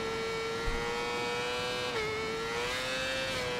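Motorcycle in Ride 4 with its rear end kicking out through a left-hand sweeper. A steady, close, high engine whine holds on, with a brief drop in pitch midway and a low thump near the start. No voices.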